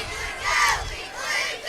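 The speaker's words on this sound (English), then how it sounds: "Big crowd for middle school football on a Thursday night." A big crowd roars and shouts at a Thursday-night middle school football game, a dense continuous wash of cheering voices that swells twice, loud and steady throughout.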